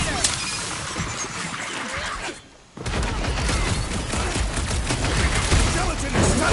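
Dense, continuous gunfire rattles loudly through a Guardians of the Galaxy video game fight, breaking off briefly in the middle before resuming with crashing impacts and voices mixed in.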